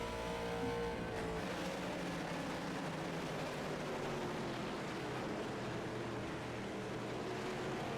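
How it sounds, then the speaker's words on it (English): A late model race car from a racing video game roars down the front stretch at USA, a loud sustained engine drone with a slowly falling pitch, continuous and without talk. "Now we're going to ride in car with the 26 of Michael Leip as he roars down the front stretch trying to catch the 40 of Robinson"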